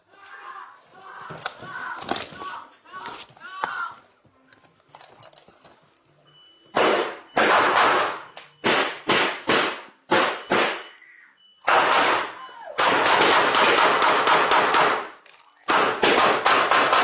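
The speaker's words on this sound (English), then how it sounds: "Shots fired! Shots fired!" Gunshots fired inside a house during an Oklahoma City police response, a burst of loud, sharp cracks in rapid succession after a stretch of shouting, then more clustered heavy bangs close by.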